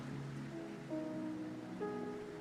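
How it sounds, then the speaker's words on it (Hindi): Steady rain falling outdoors, a soft, even hiss of drops that runs throughout with faint tonal sounds drifting over it. "It's just raining."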